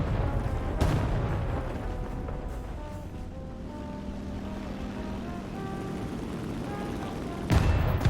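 In War Thunder, a bomb dropped from an early aircraft bursts with a heavy boom, and a second blast follows about seven seconds later, both over the plane's droning, whining engine.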